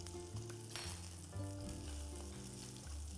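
Fish frying in a pan with butter, a steady sizzle under low tonal hum and faint kitchen sounds, quiet and distant, without speech.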